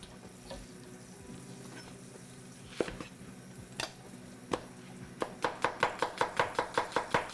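A knife chops food on a board: a few scattered knocks, then a rapid, even run of about ten crisp close chops, with a faint sizzle in the background.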